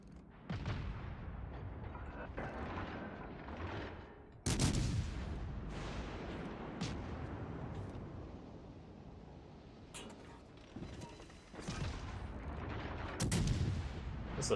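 Warship gunfire in the naval battle game World of Warships Legends: heavy booming salvos with sharp onsets at scattered intervals over a continuous rumbling battle din, loud and reverberant.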